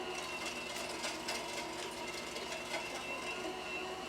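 An electric meat grinder working through partially frozen meat, a steady mechanical whirring and clattering drone with rhythmic rattling pulses, fairly quiet and continuous without talk.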